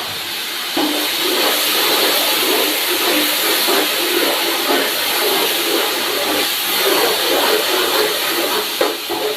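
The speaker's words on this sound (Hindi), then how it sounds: "यहाँ पे प्याज हमारा लाइट ब्राउन हो चुका है। अब थोड़ी सी यखनी इसके अंदर शामिल करेंगे।" Beef stock (yakhni) poured over light-brown fried onions for Peshawari beef pulao sets off a loud, steady sizzling hiss with fine crackling that keeps going without a break and has no speech over it.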